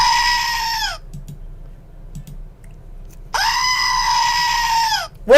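A goat bleats loudly and close, two long wavering cries separated by a quiet gap, with a faint low rumble underneath.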